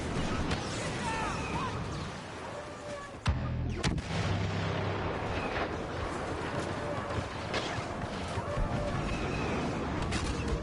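A heavy artillery barrage in the Star Wars Battlefront video game on the Scarif map, with sustained rumbling booms and crackling gunfire throughout and one sharp louder impact partway through, without talk.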